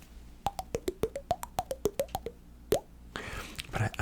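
A voice imitates the GameCube startup sound with a quick run of a dozen or so close, crisp mouth plops rising and falling in pitch, then a single louder pop, followed by faint breathy mouth noise.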